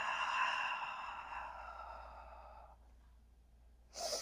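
A long, slow exhale during a yoga session, loud at first and tapering off gently, then a short pause before a fresh sharp intake of breath at the end.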